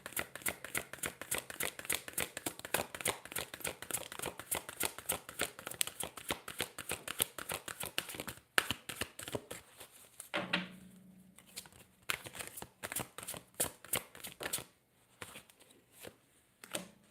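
An oracle card deck is shuffled by hand in rapid, rhythmic riffles and flicks, close and fairly soft, with a brief pause before the shuffling resumes.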